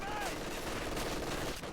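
Machine gun fire rattles in Company of Heroes 2, a dense, sustained burst of rapid shots with battlefield noise behind it and no break in the firing.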